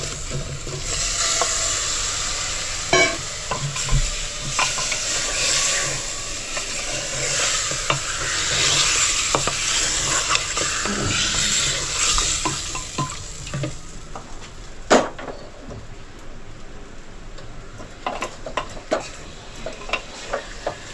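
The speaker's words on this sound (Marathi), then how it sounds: "मटण टाकल्यावर पण आपण 2 मिनिटं आहे ना चांगलं ढवळत राहायचं" Mutton pieces with a pinch of turmeric sizzle loudly in a hot pan while being stirred steadily for a sukka dish; a constant close frying hiss runs under scattered scrapes and clatter of the spatula, with no talking.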